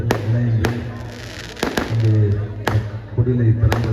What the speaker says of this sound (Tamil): சொல்லிவிட்டு கிராக்கர்ஸ்லாம் வெடித்தாங்க